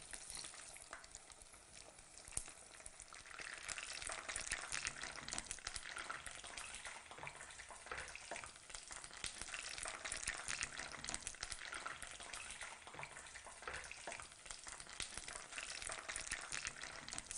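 Vegetable tempura frying in hot fat, a dense, steady sizzle and crackle that runs on unbroken at moderate loudness, close to the pan, with no voices over it.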